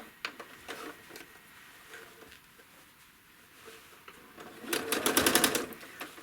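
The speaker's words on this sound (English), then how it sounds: "I'm going to stitch a line" Sewing machine stitching a line across a quilt, quiet clicks at first, then a loud steady burst of rapid needle stitching near the end.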